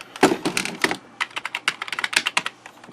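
Typing on a compact computer keyboard from a vintage computer haul, a rapid irregular series of close, clacky keystrokes, alone and fairly loud.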